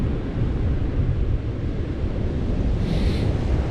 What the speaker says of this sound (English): I think as this water comes up, these waves will calm down a bit